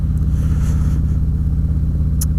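A Harley-Davidson motorcycle with a Stage 4 engine upgrade idles and revs with a deep, loud, steady pulsing rumble, heard close and alone.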